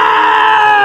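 A man screams in a dramatic film scene, one loud, sustained, strained cry held steadily close up for its whole short length.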